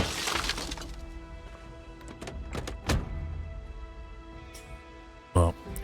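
In Project Zomboid, glass shatters and heavy thunks land in a few separate hits, the loudest crash near the end, while a voice talks over the game sounds.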